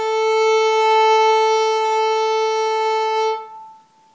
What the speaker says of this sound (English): I'm going to play for you on the A string, on the sounding point